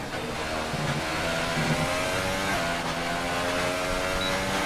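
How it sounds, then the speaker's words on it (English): Engine drone of a Sauber Formula 1 car in the racing game F1 2018, leaving the pit lane at the Australian Grand Prix; a steady, loud, continuous mid-pitched whine holds throughout with no pauses. "we see a Sauber coming out of the pit road"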